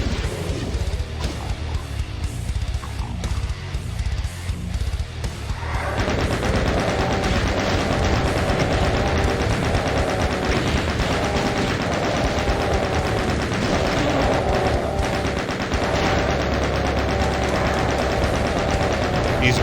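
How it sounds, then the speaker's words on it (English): A chain gun in Doom fires in a long, unbroken rapid stream. It builds to a loud, dense roar after a few seconds of quieter shots and keeps hammering to the end. "Using my chain gun simply because there's lots of chain gun ammo inside."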